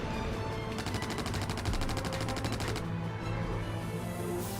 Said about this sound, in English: I shot his landing gear off, or blew it up more likely